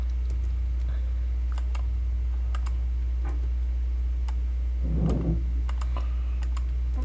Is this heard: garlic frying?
no